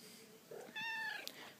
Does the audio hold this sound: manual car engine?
no